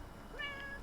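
A house cat meows once during a podcast recording, a brief, moderately close, quiet call rising in pitch, alone with no talk.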